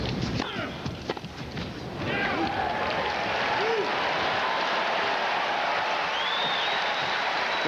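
Tennis crowd at a 1995 exhibition match roaring with loud, sustained applause and cheering that swells after a sharp burst of claps, with a voice talking faintly underneath.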